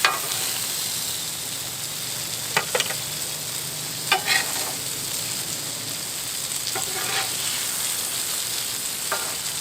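Steady hiss and sizzle of smashburgers frying on a heavy-duty Cuisinart griddle, with a few sharp scraping clicks from a spatula, heard close and continuous without speech.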